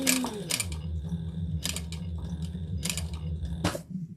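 Sewing machine stitching an X across a beach tote, a low motor hum running steadily with repeated sharp mechanical clacks spaced about a second apart, close and alone.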